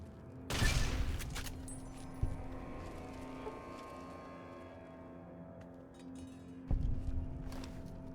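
Rifle gunfire in Fallout New Vegas, with two loud, sharp blasts several seconds apart, each leaving a short ringing tail over a faint steady background hum.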